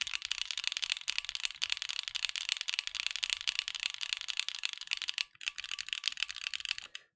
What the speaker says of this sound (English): there's like a little bit of ping. Just it's on the keys just around here and the same over here.